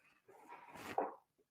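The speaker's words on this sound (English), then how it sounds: "my beagle dog is trying to eat my other dog's dog food" A beagle gives a brief, faint whimpering bark-like yelp close by while going after dog food, a single rising cry lasting about a second.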